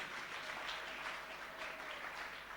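A church congregation claps steadily in praise, a continuous, fairly faint wash of applause with no talking over it.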